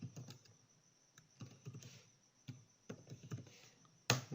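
A computer keyboard clatters as the dnsenum command is typed, with quick bursts of close, crisp keystrokes separated by short pauses and a sharper final key press at the end.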